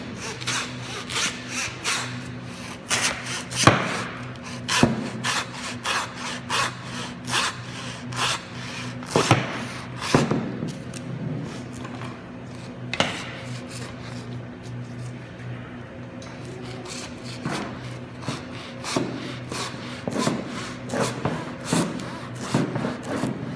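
A saw cuts through the bone of a beef round in steady rasping strokes, close and repetitive, with occasional clunks and a low background hum.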